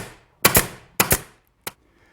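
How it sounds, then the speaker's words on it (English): An upholstery stapler fires staples into synthetic webbing with sharp, loud, close snaps: two quick double shots followed by one single shot, each ending abruptly, with quiet between and no talking. "this is an upholstery stapler that will shoot staples from 1/4 inch to 5/8 of an inch"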